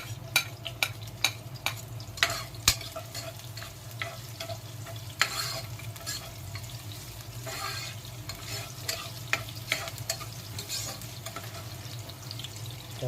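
Garlic sizzling in hot oil in a pan as it is stirred for native chicken tinola, a steady close sizzle broken by repeated sharp scrapes and clinks of the utensil.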